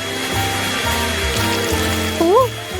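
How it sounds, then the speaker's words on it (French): A hair dryer runs with a steady loud whoosh of blowing air throughout, while a cartoonish voice-like sliding tone briefly rises over it near the end. "Oh, je vais utiliser le sèche-cheveux."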